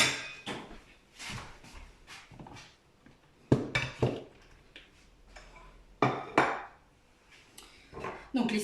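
A plate clinks and clatters against kitchen surfaces as it is fetched and set down in a home kitchen during baking, several sharp ceramic knocks and taps at close range, with quiet background movement.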